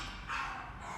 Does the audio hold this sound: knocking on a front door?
no